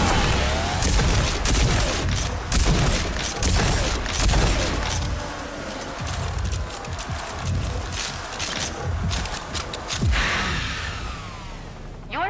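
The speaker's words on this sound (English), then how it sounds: "Use the combat shotgun's overdrive against the simulated enemies." Rapid combat shotgun blasts fired in overdrive mode during a Rage 2 training simulation, loud booming shots in dense repeated bursts with echoing impacts, ending in one sharp final blast.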